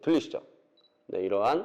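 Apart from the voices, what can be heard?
camera focus-confirmation beep when pressing shutter button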